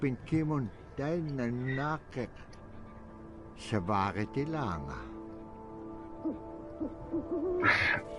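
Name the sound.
owl hooting in the video game Never Alone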